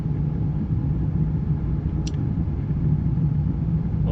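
Constant low rumbling aircraft engine drone while flying through a dust storm in Flight of Nova, steady and fairly loud, with a short faint high blip midway and no talking.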